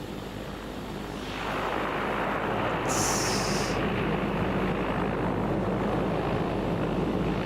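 A Beechcraft Baron 58 propeller engine spinning up and settling into a loud, steady roar heard close by, with a brief higher whine layered on top partway through.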